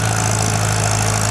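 Farmall C tractor engine running steadily while plowing a muddy field, a continuous close, loud drone with a low, even hum and no talk over it.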